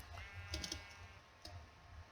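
A sheep bleats faintly in a video game, a short wavering call near the start, with soft clicks scattered around it at a low level.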